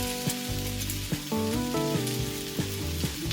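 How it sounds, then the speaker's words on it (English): Garlic sizzles steadily in hot oil in a pan while cooking Sicilian caponata, a close continuous crackle and fry with a few soft clicks and knocks from utensils against the pan. "Garlic goes in."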